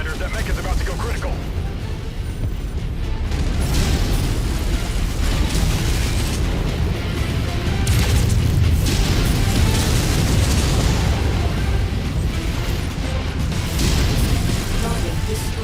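A mech going critical and exploding in Mechwarrior 5: Mercenaries, heavy continuous booms and mechanical rumble rolling on at high volume, with radio voices talking over the battle.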